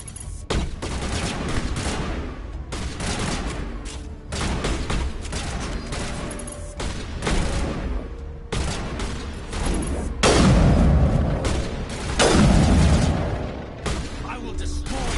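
Gunfire and heavy shotgun blasts in the Mass Effect video game, with loud repeated booming shots and crackling bursts in several clusters, under and between talking.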